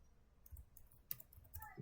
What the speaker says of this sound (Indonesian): Itu ketik saja di sini